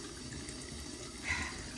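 Tap water runs steadily into a sink in a bathroom at bedtime, a soft, even hiss that swells slightly near the end, with no talking.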